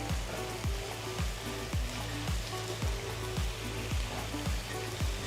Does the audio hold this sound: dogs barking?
no